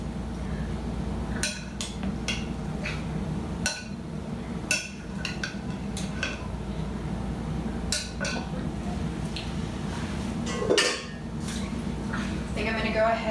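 Peach raspberry pie filling being stirred in a bowl, with scattered clinks and scrapes of a utensil against the dish under a low steady hum and occasional talk.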